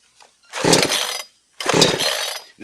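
Two quick pull-cord yanks on a Wemars chainsaw with an easy start system, each a harsh half-second rasp of the recoil starter, separated by a short pause and heard close up with no talking.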